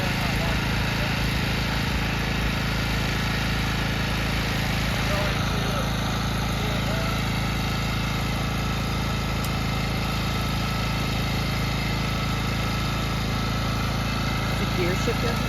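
A walk-behind power harrow working a farm bed in Hawaii, its engine running in a loud, steady, continuous drone with vibration, close by throughout, with occasional talk over it.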